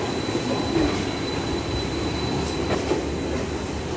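DEMU passenger train running between Kacheguda and Raichur, a steady loud rumble of wheels and motor with faint rail clatter, heard close from onboard without talk.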